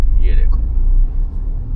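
A Tata Punch facelift engine idling in first gear near 1000 RPM, a loud steady low rumble with a slight shudder, briefly crossed by a high chirp and a faint click.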